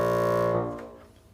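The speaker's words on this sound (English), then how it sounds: "The lowest note on the bassoon is a low B flat." Bassoon sounding its lowest note, low B flat, a rich buzzy sustained tone held alone for about half a second before it stops and rings away into the room.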